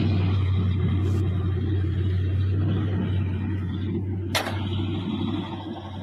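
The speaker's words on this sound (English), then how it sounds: "Let me hear this motor." Oldsmobile Custom Cruiser station wagon with a 351 engine idling cold, a steady deep low rumble running continuously up close, with a couple of brief sharp clicks or knocks over it and no speech.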